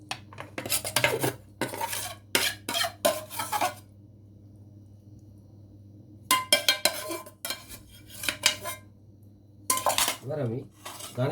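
Metal cutlery clinks and scrapes against dishes while food is plated, in irregular bursts separated by quiet pauses, over a steady low hum.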